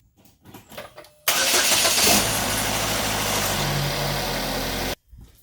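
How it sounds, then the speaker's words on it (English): A 2015 Chevy Equinox with a freshly changed battery cranks and catches, bursting into a loud, steady idle that runs for several seconds before cutting off abruptly, with faint clattering in the quiet before it. "Alright, car started, battery's working fine."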